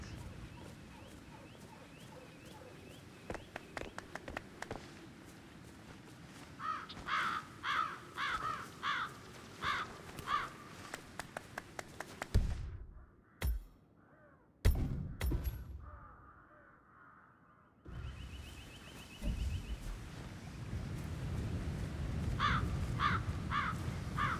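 Crows caw from their nests in Hitman 3, a series of rhythmic harsh calls over game ambience, with a sudden quiet break and loud thuds midway before the background resumes.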